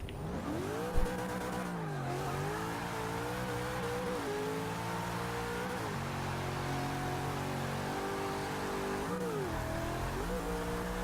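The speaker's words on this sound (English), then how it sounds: "We got plenty of wheel spin" Drifting car in Forza Motorsport 6 revving hard with wheel spin, the engine note rising and falling in repeated sweeps over a steady loud roar, with tire noise throughout and no talking.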